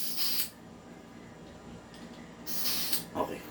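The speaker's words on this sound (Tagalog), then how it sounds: "Okay, magazine. Spray tayo. Okay, then spray." Two bursts of spray from a can onto an airsoft gun magazine, one at the start and a longer one near the end, close by, with a quiet gap between them.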